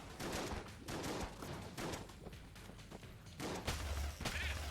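Rapid bursts of video game gunfire from Enter the Gungeon, dense overlapping shots and impacts repeating steadily across the whole stretch at a loud, constant level with no pauses.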